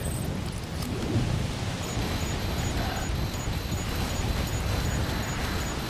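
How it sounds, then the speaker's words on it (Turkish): A fierce, cold storm in the Death Stranding video game, heard as a steady roar of wind and rain with low rumbling throughout, dense and unbroken with no talk. "İnanılmaz bir soğuk ve fırtına."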